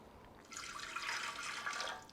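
Water pours into a bread machine pan in one short, soft, steady stream lasting under two seconds, close and alone.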